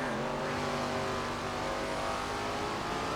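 Super late model race cars roar around Slinger Speedway in a racing video game, a dense, continuous engine drone that holds loud and steady with no talk.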